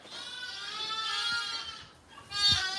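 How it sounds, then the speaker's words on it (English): Lambs bleat in a lambing shed, two long, close, wavering cries, the second louder, with quiet rustling underneath. "we've got lambs yelling in my ear everywhere here"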